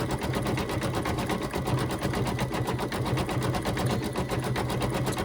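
A home embroidery machine stitches a bunny tummy treat holder design, laying down the bottom pad and three small top pads. Its needle chatters in a fast, steady rapid-fire rhythm with a constant motor hum, close and loud throughout with no talk.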